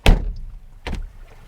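A rear-hinged back door on a Mazda MX-30 electric SUV is shut out of sequence, giving two solid thuds about a second apart, the first louder, close by with no talk.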